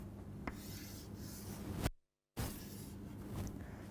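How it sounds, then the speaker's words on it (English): A pen scratches across paper while sketching a PNP bipolar junction transistor schematic by hand, soft rubbing strokes with a brief pause midway before the scratching resumes, close and quiet. "let me just draw the schematic of that"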